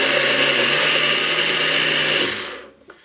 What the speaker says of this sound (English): we're going to use our NutriBullet, as all my fancy tools are at work. And we are just going to pulsate these